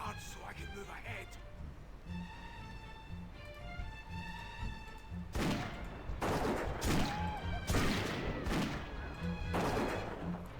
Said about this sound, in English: Shoot all the guards so I can move ahead.